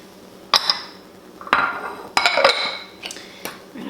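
Cheese is stirred into a mixture with a utensil, giving a few irregular clanks and scrapes against the bowl, with brief clinking hits between softer scraping.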